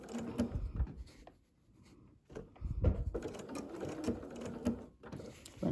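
A home sewing machine runs a blanket stitch on appliqué at 2.0 width and 2.0 length, whirring in bursts with brief pauses between runs, close and fairly quiet.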